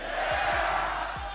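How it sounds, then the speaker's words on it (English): A large wrestling arena crowd roars and chants "yeah" together, a dense, loud wash of many voices filling the whole moment. "The crowd loved reciting the yeah catchphrase"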